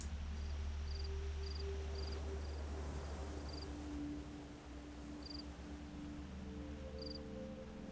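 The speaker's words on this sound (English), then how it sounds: "I'm hearing the cricket." A cricket in the video game Antichamber chirps in short, evenly spaced bursts over a low, steady background hum, faint and somewhat distant, with no talking.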